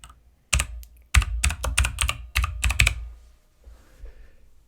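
Quick bursts of keystrokes on a computer keyboard as a search is typed, close and crisp, in two runs separated by a short pause, then quiet.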